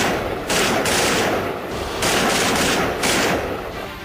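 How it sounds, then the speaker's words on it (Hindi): Sustained machine gun fire from the Pakistani army along the Line of Control at the Indo-Pak border, loud and dense, in long continuous bursts with brief dips between them, no voices. "कभी भी पाकिस्तानी फौज के मशीन गन से राउंड निकलने लगते हैं।"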